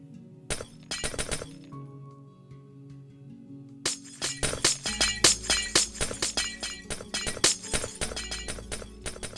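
Light gray stained glass blocks shattering in the video game Minecraft, a rapid run of crisp glassy breaking sounds, a short burst early and then a dense repeated series that fills the rest.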